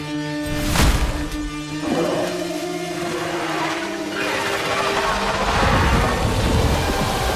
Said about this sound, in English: A storm is coming.